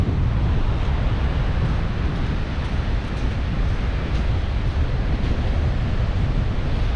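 Sea waves break on a beach along the Holderness coast, a continuous loud wash of surf with wind buffeting the microphone and no voices.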